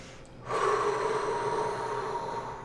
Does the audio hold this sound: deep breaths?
yes